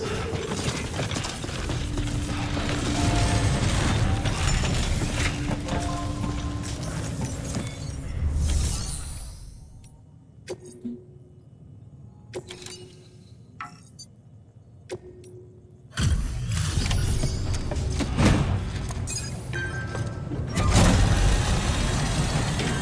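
Decontamination machinery in Death Stranding runs with clanking, ratcheting mechanical noises and gear-like whirs, loud at first, then dropping to sparse clicks in a quiet stretch before the heavy mechanism sounds return.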